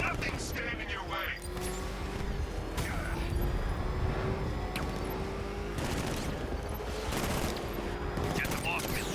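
Dense bursts of gunfire and mechanical booms rattle through Batman: Arkham Knight combat, sustained and loud against a rumbling vehicle engine, with voices speaking over the action.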